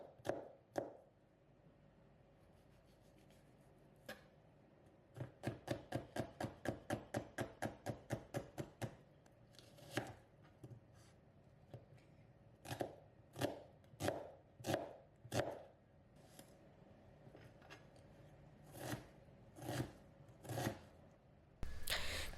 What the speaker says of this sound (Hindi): हमने पतला काटना है और छोटा छोटा पीसेस काटना है